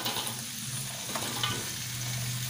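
Vegetables sizzle and are stirred in a hot pan while cooking capcay with shrimp, carrots going in first; a steady broadband frying hiss with a low hum beneath and a few brief scraping clatters, no talking.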